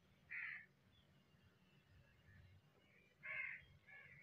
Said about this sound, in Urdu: شاید آپ بیک گراؤنڈ میں بھی آواز سن رہے ہوں گے کوے کی